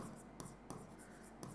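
Writing on a board during a physics lecture: a few short, scratchy strokes, with a sharper tap at the start of some strokes, heard close over a steady low room hum.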